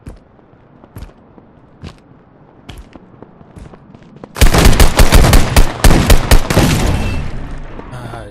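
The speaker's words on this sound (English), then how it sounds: "He had the shotgun. He could blast me away a lot quicker." Gunfire in the DEADROP video game: a few sparse, sharp shotgun blasts, then a sudden dense burst of rapid, loud shots close up, trailing into a sustained roar.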